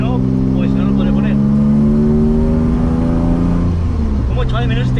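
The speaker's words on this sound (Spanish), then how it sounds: "no me estaréis escuchando prácticamente nada porque el coche suena bastante" A BMW drift car engine heard from inside with the windows open, its loud, droning rev rising in pitch and then dropping, with someone talking over it.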